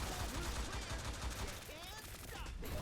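Game gunfire from the character Gloria in the mobile shooter T3 Arena, a steady stream of rapid shots through a busy mix with other game effects and some voice underneath.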